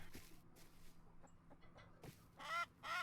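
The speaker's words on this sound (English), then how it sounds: "Me getting attacked by a chicken" A chicken in the Rust survival game clucks in short bursts, a few quiet scattered calls and then two louder clucks near the end, with no talking.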